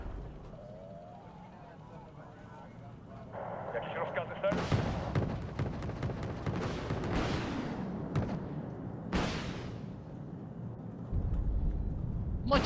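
Rocket artillery in the war strategy game Wargame: Red Dragon, heard as a burst of sharp booming blasts with rolling rumble through the middle, while players talk over the gunfire.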